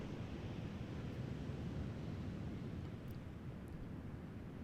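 Ocean waves washing against seaside cliffs near a lighthouse, a soft, steady surf hiss and low rumble that stays even throughout, faint and distant, with no voices.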